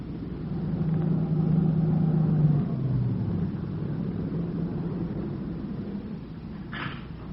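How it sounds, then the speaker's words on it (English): A dark late-model sedan swings off a dirt road near a shack and rolls to a stop, its steady engine rumble easing down as it slows, with a faint click near the end. "It swung off the dirt road and pulled to a stop near the shack."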